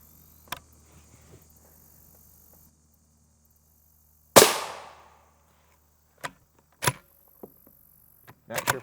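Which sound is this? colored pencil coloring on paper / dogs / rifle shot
rifle shot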